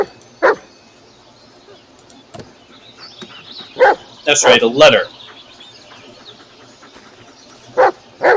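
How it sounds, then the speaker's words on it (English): Dogs barking in the Blair Witch video game, a few separate barks scattered across the clip with a louder cluster in the middle, along with a brief spoken line. "the doggies just keeps barking"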